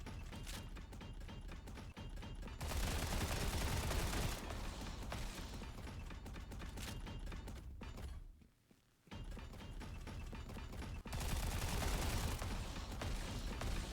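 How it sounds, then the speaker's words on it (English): Sustained bursts of boss gunfire in the video game Frontier, dense rapid shots with mechanical thunks, loud and continuous, dropping out briefly before resuming even stronger. "He's shooting me through the fucking floor."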